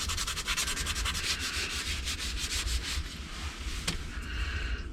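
Sandpaper rubs back and forth over a wooden bass popper fishing lure in fast, even strokes, a close raspy scratching that slows briefly near the end, with no voices.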